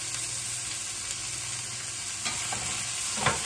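Onions and chilies sauteing in grapeseed oil in a pan, a steady close sizzle with occasional stirring scrapes and pops.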